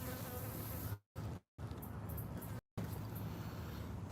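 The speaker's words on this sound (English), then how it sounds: "There's a lot of activity right here with the mosquitoes." Mosquitoes swarming in a swampy garden where crawfish live, making a thin, continuous whining buzz broken by a few brief gaps, fairly faint and close.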